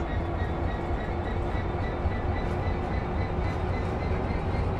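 A diesel-electric train in Train Sim World pulls away, giving a loud, steady rumble of engine and rolling wheels that continues unbroken and close from start to finish.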